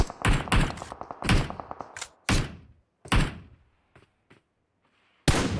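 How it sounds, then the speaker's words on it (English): Gunfire in PUBG Mobile aimed at a motorbike, a fast burst of close shots followed by several single heavy reports with gaps and near silence between, ending on another loud shot. "I guess he's shooting the bike, so he can't use it to push or to move around so easily."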